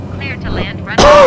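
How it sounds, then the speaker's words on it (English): A jet taking off in Microsoft Flight Simulator 2020 swells into a loud, broad roar with a rising whine, following a stretch of quieter radio-style talk. "there is somebody Jet taking off there"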